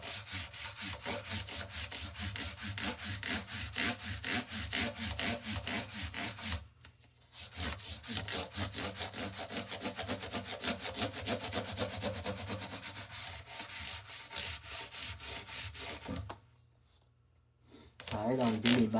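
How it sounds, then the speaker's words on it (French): Abrasive rubbing back and forth over the frets of a classical guitar to polish them, a steady close scratchy scrub running nearly continuously with two brief pauses. "l'abrasif va finir par lustrer les frettes"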